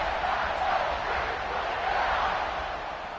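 Video game football stadium crowd roars in a broad, steady wash of cheering and chatter during a kickoff, loud and continuous, easing slightly toward the end.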